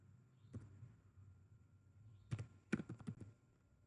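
Quiet computer keyboard typing: a lone keystroke, then a quick cluster of several clicky taps near the end, over a low steady hum.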